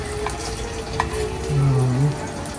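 Maruya fries in deep oil, giving a dense, continuous sizzle and bubbling close up with faint background noise and no speech.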